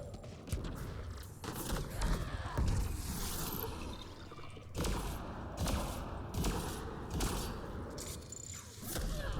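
Repeated shotgun blasts in the sci-fi shooter Mass Effect Andromeda, loud bursts of fire in quick clusters over a busy, noisy game soundscape with no talking.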